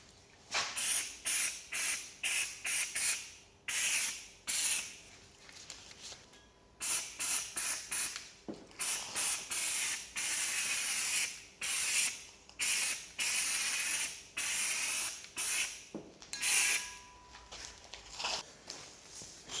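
A spray gun applies black powder coat to Toyota Glanza car parts in repeated hissing bursts of a second or two each, separated by short pauses, steady and fairly close.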